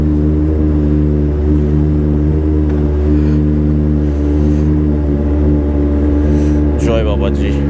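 A Kawasaki ZX-10R superbike sits idling at dawn in Kolkata, its engine a steady, loud, close rumble that holds without a break, with a faint voice briefly over it near the end.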